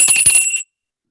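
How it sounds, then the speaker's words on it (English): A single bright bell rings briefly, shimmering with a clear high tone, then cuts off abruptly into silence. "At least we will try the bell once more"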